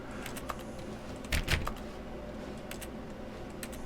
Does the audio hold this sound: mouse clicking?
yes